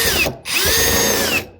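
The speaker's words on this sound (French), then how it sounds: "Donc là, je visse comme ça." A power drill drives screws into steel joist hangers during a home renovation, near a load-bearing beam. Two steady, loud whirring bursts are split by a short pause, with no talking.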